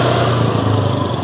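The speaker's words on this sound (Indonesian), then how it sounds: "bentar ada motor lewat" A small motorcycle passes close by on the road with a loud, steady buzzing engine note that stays strong for the whole moment and drowns out everything else.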